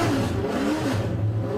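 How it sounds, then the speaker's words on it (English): A car engine runs close by, its revs rising and falling in uneven surges with a rough mid-pitched growl throughout, no talking. "I'm going to see if I can, start this engine up right now for you guys"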